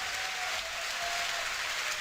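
A tournament crowd at a Dota 2 event, The International 2023, applauds and cheers in a dense, steady roar that fills the whole moment without a break.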